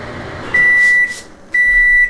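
A microwave oven hums steadily while two separate long, high electronic beeps sound loud and close.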